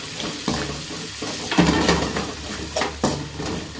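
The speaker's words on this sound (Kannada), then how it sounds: "ಹಾಗೆ ಈರುಳ್ಳಿ ಹಾಕಿ ಬಾಡಿಸ್ಬಿಟ್ಟೆ ನಾನು" Onions sautéing in a pan in a home kitchen, a steady loud sizzle with intermittent scraping and stirring knocks, close and continuous without talk.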